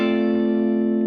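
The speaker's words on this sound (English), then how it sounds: "we can use the third finger to hammer on to this A on the 12th fret" An electric guitar note played as a hammer-on to A at the 12th fret of the fifth string, sustaining evenly with a bright, effects-laden distorted tone for about a second, close and alone.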